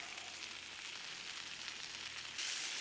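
The fat cap of a steak searing on a Blackstone griddle: a steady, close hiss of frying that swells louder near the end, with no voices.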